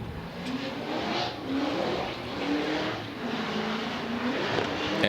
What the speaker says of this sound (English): Jeff Jones, that supercharged, Edelbrock supercharged V8